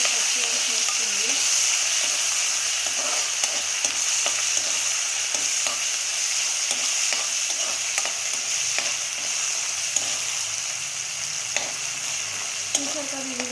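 Green chillies and ginger-garlic paste frying in hot oil for tomato rice, a steady loud sizzle with scraping stirs throughout, no talk.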